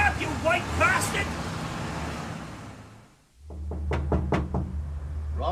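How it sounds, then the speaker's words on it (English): A series of sharp, loud knocks bangs on a door outside a brothel, following a stretch of street and traffic rumble with voices before it. "Banging on the door of a knocking shop."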